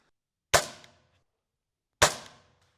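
A brand-new Chinese air rifle fires on an outdoor range, giving two sharp, loud cracks about a second and a half apart, each with a short fading tail and silence between them.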